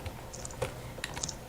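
Someone types on a computer keyboard during a Danish Faction let's play: a few soft, scattered key taps over a steady background hiss, up close and without any talking.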